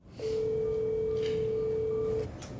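A single long, steady telephone tone sounds clearly and alone for about two seconds as a call to Tim Walz is placed, with a faint trailing hiss after it stops.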